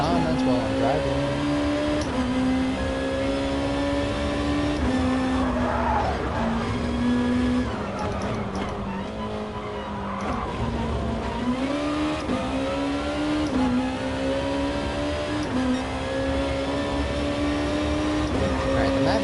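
A race car in a sim racing game brakes hard and late, its rear stepping out, with a steady engine drone and wavering tire squeal throughout while someone talks over it.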